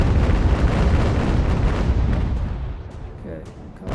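Naval ship guns firing in the sea-battle game UGAR, a dense, roaring barrage of deep booms and rumbling blasts that starts loud and slowly fades, with no voices.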